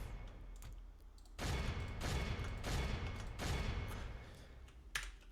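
Siege bombardment in Medieval 2 Total War, the Gondor campaign at Dol Amroth: four heavy bursts of booming impacts and crackle, each about a second long, come in quick succession over a low rumbling battlefield background.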